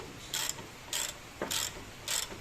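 A ratchet wrench tightening coilover bolts on a 1990s Honda Civic suspension: four separate bursts of rapid ratcheting clicks, evenly spaced and close by, with quiet gaps between them.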